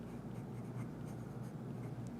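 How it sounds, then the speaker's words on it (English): A pen or pencil scratches steadily across paper as a name is written, a soft continuous scribble close by over a low, even room hum. "So always put your name on your paper."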